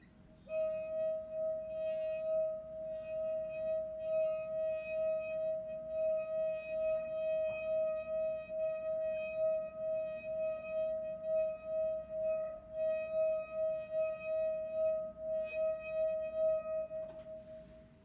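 A drinking glass rings with a pure, sustained resonant tone that holds steady throughout with a gentle pulsing wobble, quiet and alone.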